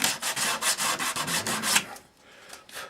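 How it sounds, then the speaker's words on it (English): Sandpaper rubs across glued wood on a model signal box, wiping away surplus glue in quick, rhythmic, close strokes for nearly two seconds before trailing off into a few fainter scrapes. "Any surplus glue, just wipe it off with a bit of sandpaper."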